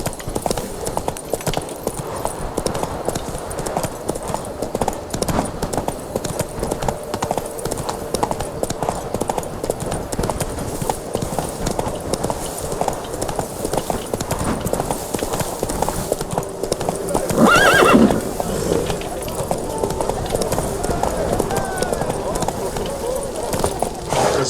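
Galloping horse in The Witcher 3, steady clip-clop hoofbeats running throughout, with a short louder burst near the end that may be a neigh; game ambience underneath, no speech.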